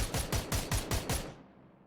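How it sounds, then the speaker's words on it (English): Rapid gunfire in a PUBG esports match: six evenly spaced sharp shots in quick succession, fairly distant and crisp, then the last one fades into quiet. "We're seeing some shots pop off from Abnormal."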